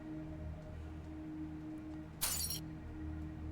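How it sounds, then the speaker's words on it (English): Glass shatters in one sharp burst partway through, a bright crash lasting under half a second over a quiet, humming room. "And then the glass shattered."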